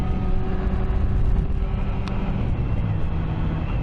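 Yamaha R6 motorcycle with a stock exhaust mod, engine running steadily with a continuous low rumble and drone, close and fairly loud throughout, no talking.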